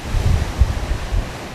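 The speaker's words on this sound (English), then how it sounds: "even the sound of the waves, it's so powerful" Powerful ocean waves crash on a beach during king tides, a loud, continuous roaring surf with rolling low surges and wind buffeting the microphone.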